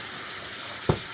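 Ground beef frying in a pan, heard as a steady sizzle with one brief, louder scrape or clatter near the end, close by and with no talking.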